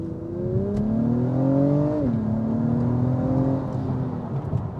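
A 2023 Acura TLX Type S accelerates hard from inside the cabin, its engine note rising steadily in pitch, dipping at a gear change, then climbing again under a constant loud whir.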